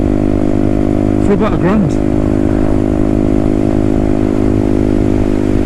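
A Herald Maverick 125cc motorcycle engine running steadily while riding, a loud continuous low drone heard under someone speaking.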